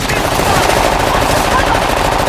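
Dense, continuous gunfire from a video game shootout in Uncharted: The Lost Legacy, with rapid machine-gun bursts blurring into a loud, unbroken roar, and faint voices underneath.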